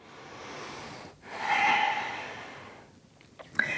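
Slow, steady breaths drawn in and let out during a modified goddess yoga pose, a soft airy inhale swelling then easing off, followed by a fainter exhale and a short sniff near the end, close and quiet with no talking.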